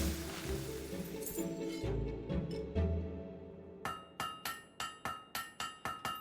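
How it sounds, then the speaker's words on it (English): Metal hammer blows ring out at a forge in the video game Fable 3 as a blade is struck, about eight sharp, evenly spaced clangs following a stretch of busy game sound and clinks. "You know how to use a hammer."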